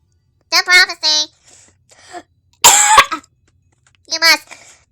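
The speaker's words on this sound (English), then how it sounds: "I actually legit coughed." A single sharp, loud cough from a throat irritated by spice, set between short bursts of high, childlike vocal sounds and breathy murmurs.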